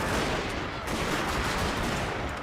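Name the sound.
gunfire in Fall of the Samurai video game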